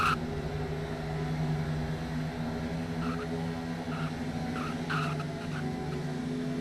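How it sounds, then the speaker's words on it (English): Race cars in the Forza video game roll toward pit road, a steady engine drone with light tire squeal and passing whooshes under a low hum, continuous and mid-distance, with no sharp events. "Next wave of cars hitting pit road."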